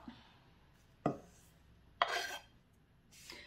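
Cooked food tipped from a pan into a dish, heard as three short scraping clatters of utensil and cookware spaced about a second apart, close by and fairly quiet, with no talking.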